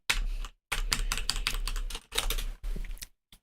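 Rapid bursts of computer keyboard typing in a quiet room, close clicking keystrokes in several quick runs separated by short pauses.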